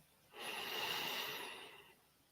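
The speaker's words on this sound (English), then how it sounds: "Breathe in" A single slow, close in-breath during meditation, a soft airy hiss that swells over about a second and a half and fades, with quiet before and after.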